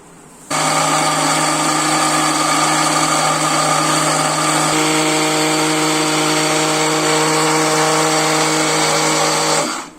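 An electric grinder starts abruptly and runs at a loud, steady whine for about nine seconds, grinding a spice paste of garam masala, dry ginger powder, garlic powder and salt, then cuts off; its pitch shifts slightly partway through.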